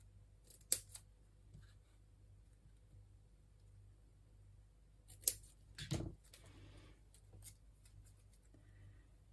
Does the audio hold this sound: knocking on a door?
no